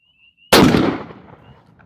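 A single loud, close shotgun blast firing a turkey load of mixed 7.5 and number 9 shot at a target outdoors, sharp onset followed by a decaying echo.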